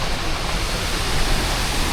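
Mountain streams and river water rushing beside the road from Lachung to Zero Point, a steady, dense, unbroken roar of flowing water that stays loud and even throughout with no voices.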